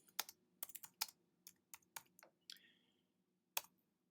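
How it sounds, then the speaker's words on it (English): Typing on a computer keyboard into a search bar, a run of sharp individual key clicks with irregular rhythm followed by a pause and one final click, close and clear with no voices. "So let's just type into the search bar"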